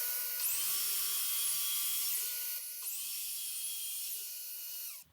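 A cordless circular saw runs through wood in a woodworking shop, a loud high whining cut that holds steady for a couple of seconds, dips, then repeats before winding down.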